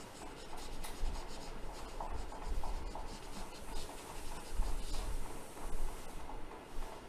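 Writing being erased from a board, a continuous close rubbing and scraping with rhythmic back-and-forth strokes, steady and moderately loud.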